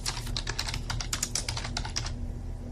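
Rapid, steady keystrokes on a computer keyboard while entering text into a spreadsheet, a close, clicky run of taps over a low electrical hum, slowing and stopping near the end.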